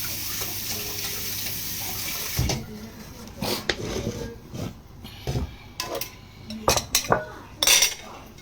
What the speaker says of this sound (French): on va vider la marmite